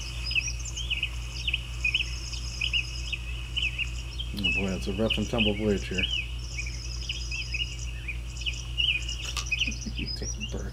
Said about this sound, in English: Oh, it's Christmas birds.